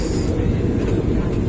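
Steady low rumbling roar of the Vande Bharat Express running between Coimbatore and Bangalore Cantonment, heard from on board as an even, continuous drone with no talk over it.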